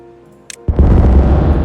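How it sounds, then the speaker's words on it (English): Explosives detonating in the Timberborn building game, a sudden loud blast that bursts from near silence after a tiny click and then rumbles on as a heavy, sustained roar. "Let's start to detonate out some of the space."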